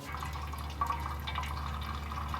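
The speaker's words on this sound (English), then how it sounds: "While the coolant's draining" Coolant drains steadily from the radiator drain plug of a Honda Civic Si/SiR with a B16A2 engine, a continuous low trickle and splatter over a constant hum.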